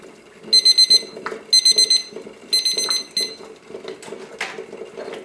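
A kitchen timer alarm beeps in three rapid bursts of four shrill pulses each, loud and close, followed by softer clatter and faint kitchen noise.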